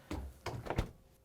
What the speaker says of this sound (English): we can close the doors